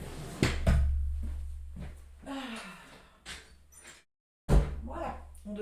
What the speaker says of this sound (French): Attendez, je vais fermer la porte.